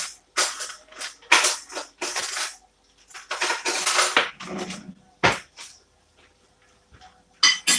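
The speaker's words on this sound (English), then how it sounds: "So I cover the pot at that time." A lid is set onto a cooking pot in a home kitchen, making a run of close, sharp metallic clanks and rattles in irregular bursts, with quiet gaps between them.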